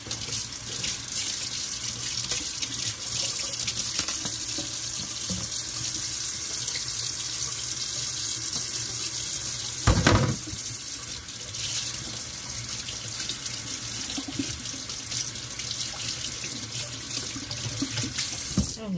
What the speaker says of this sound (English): I don't know why I'm washing my hands.